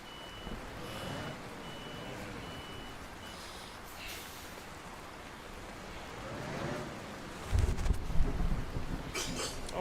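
Intermittent reversing beeps of a truck backing into a parking spot in Euro Truck Simulator 2 with ProMods, steady and moderately loud over a continuous engine drone, with a louder rumble near the end.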